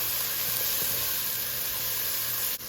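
Frozen vegetables tumble into a hot pan of mushrooms and olive oil for a vegan chicken pot pie, giving a steady loud sizzle and hiss that holds for several seconds, then drops briefly near the end.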